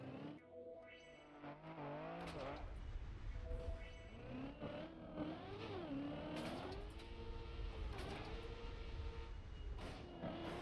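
Car engine in a racing video game revs and surges continuously, pitch sweeping up and down through gear changes over about ten seconds, loud and steady with no voices.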